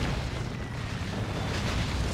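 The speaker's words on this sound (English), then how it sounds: "Here comes an orbital thanks to Broodwich." An orbital strike in the real-time strategy game Dawn of War 2 unleashes a dense, sustained roaring blast of broadband noise, heavy in the low end and steady for about two seconds, with no voice over it.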